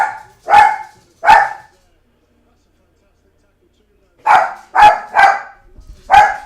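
A visiting dog barks indoors at home: two loud, close barks, a pause of a few seconds, then a quick burst of four more.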